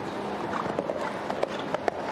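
Horses' hooves thud irregularly across the sand of a show jumping arena at the Global Champions League in Monaco, each strike soft and moderately distant against a steady ambient background.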